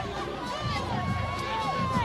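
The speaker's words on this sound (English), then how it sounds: "What a phenomenal crowd." A large crowd murmurs and chatters in the stands at a night high school football playoff game, a steady, moderately distant wash of voices with faint shouts, an announcer talking over it.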